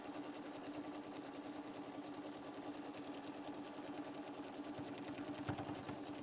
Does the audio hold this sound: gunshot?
no